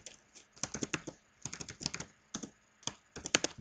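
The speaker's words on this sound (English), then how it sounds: "I'm just going to type this statement in to see what will happen" Quick bursts of typing on a computer keyboard, close and fairly quiet, with crisp clustered keystrokes separated by short pauses, no talking.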